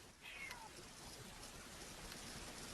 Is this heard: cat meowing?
yes